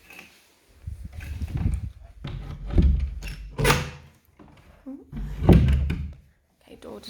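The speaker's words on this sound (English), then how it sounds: "Okay, door does latch fine." A house door swung shut and latched during a move-in property inspection, a few soft thuds and clicks amid nearby speech.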